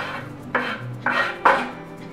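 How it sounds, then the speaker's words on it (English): Peppers and mushrooms dropped into a pot of vegetable and quinoa soup with noodles, giving three distinct clattering thuds against the pot about half a second apart over a low background hum. "We're gonna add our peppers and our mushrooms."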